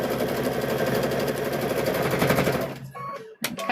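A sewing machine runs a straight stitch across quilt binding, a steady rapid mechanical chatter that stops abruptly near the end, followed by a few sharp clicks and handling noises.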